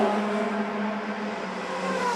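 DTM race car from 2011 at the Nürburgring pulling into the pits behind the Mortara car, a loud, continuous engine roar with a sustained steady tone and slight pitch drift.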